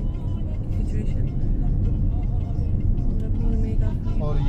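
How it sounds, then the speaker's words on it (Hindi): Heavy road traffic in Ajman, UAE, a dense, continuous rumble of cars and engines passing nearby, with people talking over it. "ट्रैफिक बहुत ज़्यादा है, आप लोग चेक करें ट्रैफिक सिचुएशन"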